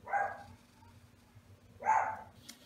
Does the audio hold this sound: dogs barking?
yes